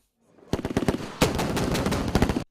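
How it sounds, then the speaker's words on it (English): Live ammunition gunfire at a military training exercise in Kachia with armored tank support: rapid bursts of machine-gun fire, a few separate cracks and then a sustained loud rattling volley, near and harsh. "Firing of live ammunition in real-life simulation to counter obstacle with armored tanks providing fire support"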